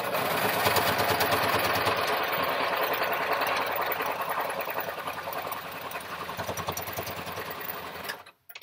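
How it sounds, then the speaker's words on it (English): A sewing machine runs a straight stitch on a blue face mask, a fast steady mechanical whir with rapid needle ticking, close and continuous before slowing and stopping abruptly near the end. "I like this, the machine, straight stitch, because it's consistent compared to what I was doing,"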